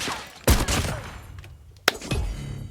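Gunfire in a shooter video game: two sharp, loud shot bursts about a second and a half apart, each followed by short rumbling tails, with no talk.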